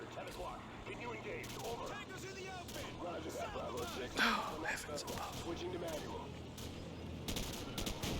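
Machine gun fire in Modern Warfare crackles in rapid bursts beneath ongoing talk, with a louder blast near the middle and sharper volleys toward the end, alongside tank and battlefield noise.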